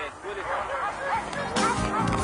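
Siberian Husky sled dogs bark and yip excitedly in an overlapping chorus, with people's voices murmuring in the background.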